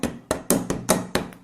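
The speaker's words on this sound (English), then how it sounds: "Then you can just hammer it in there with a screwdriver." Sharp, evenly spaced impact knocks as a springlet stopper is driven in with a screwdriver used as a hammer, six close, loud strikes in a quick rhythm with no talk.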